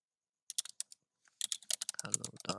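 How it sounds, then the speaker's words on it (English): Someone types on a computer keyboard in sparse, separate clicks at first. These grow into a quick, dense burst of keystrokes, close and clear, with no voices. "Let's just try just typing LAPC"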